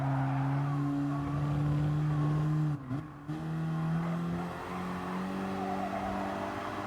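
Race car engine in Gran Turismo Sport holding a steady high drone, with a brief dip and gear change midway before the pitch climbs again, loud and continuous with no talking.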